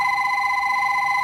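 A telephone rings with a steady electronic tone, loud and close, holding without a break and with no one speaking.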